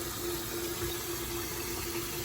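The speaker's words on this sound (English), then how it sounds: "Let me shut this water" Tap water running steadily after rinsing off a turmeric face mask, a continuous close rushing hiss with a constant hum underneath.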